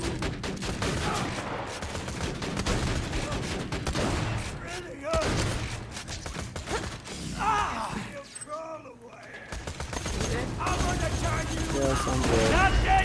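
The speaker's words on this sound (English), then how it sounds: "Turret deployed!" Automated turret deployed in Borderlands 2 fires sustained bursts of gunfire with metallic clatter, loud and dense throughout, mixed with game effects and a voice speaking over it.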